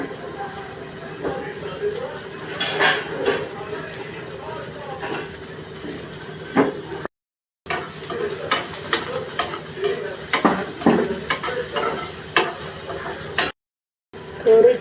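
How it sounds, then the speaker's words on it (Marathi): Tomatoes and slit green chillies are sautéed in a pan for an okra bhaji, making a continuous close sizzle with repeated scraping stirs. Two brief silent gaps break the sound, and faint voices may sit underneath. "टोमॅटो छान नरम होईपर्यंत परतून घेते।"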